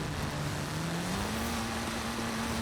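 A car drifts through a long turn in Forza Horizon, its engine holding a steady, sustained drone with a slowly rising pitch and a constant, dense roar of tire noise, with no voices.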